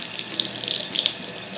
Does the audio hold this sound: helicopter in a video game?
no